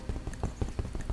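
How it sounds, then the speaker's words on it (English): Repeated dull knocks from tapping on a bed, about six evenly spaced soft thuds in quick succession, close and fairly quiet. "If I tap my bed."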